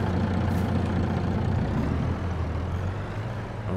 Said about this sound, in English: We got to hit the brakes.